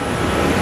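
A Southwest Boeing 737-700 airliner, Flight 802 to Oakland, is pushed back from the gate at Phoenix Sky Harbor airport, with a steady, loud, broadband engine roar that holds without a break.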